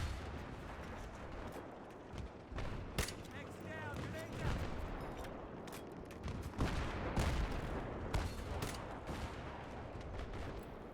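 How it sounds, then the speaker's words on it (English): Rapid bursts of gunfire and heavy blasts from a teammate, tank shells among them, in a combat video game, loud and dense over a constant game din. "someone's shooting at me, but it's a teammate"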